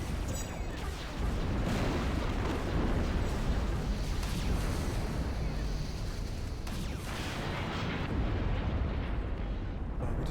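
Continuous rumbling barrage of artillery fire and explosions from the tower defense game Siege of Centauri, dense overlapping booms and bursts sustained loudly throughout with no clear gaps.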